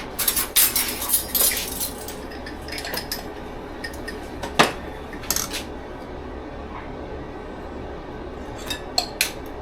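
A metal sifter works flour with a teaspoon each of baking soda and baking powder, giving sharp metallic clinks and rattling taps in bursts, loud at first, then sparser over a quiet kitchen background.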